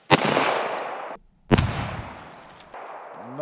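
Colt Gold Cup .45 pistol fired outdoors, two loud, sharp shots spaced about a second and a half apart, each with a short ringing decay, close and without talk.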